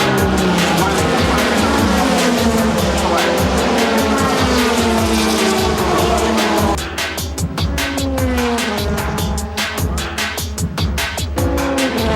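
A Nissan Z race car, the Motul Pitwork Z in Japanese GT championship racing, roars loudly nearby with a sustained, shifting engine note, then drops to a rougher, pulsing idle-like rumble as it comes into the pits.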